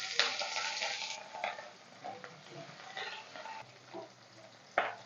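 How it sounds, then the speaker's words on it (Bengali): Rohu fish pieces frying in hot oil, a loud bright sizzle that flares as the fish hits the pan, then settles into a steady crackle with occasional stirring scrapes and pops, close up and without speech. "তেল গরম হয়ে গেছে, ভালোভাবে মাছ ছেড়ে দেবো।"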